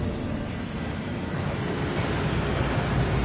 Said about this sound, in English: That waterfall washes away all enchantments